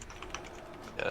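Rapid computer keyboard typing during a gaming voice chat, a quick stream of faint clicky keystrokes close to the microphone with a slightly louder burst at the end.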